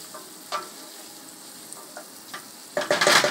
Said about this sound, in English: Give those a stir, get them all nice and coated in the butter.